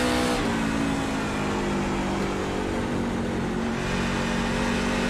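A NASCAR truck engine at Iowa Speedway in the iRacing sim drones loudly and steadily, a dense buzzing roar with a small throttle lift and recovery near the start.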